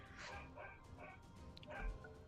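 A dog barking and whimpering nearby, a few quick yips and short barks broken by whiny whimpers, over a steady background hum.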